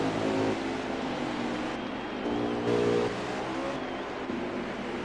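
Race cars in a Veedverks Cup Outlaws Series event at Michigan roar out of pit road, a continuous loud engine drone with rising and falling revs.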